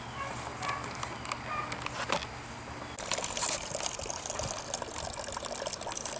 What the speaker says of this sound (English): I'm draining the first runnings from the mash into a bucket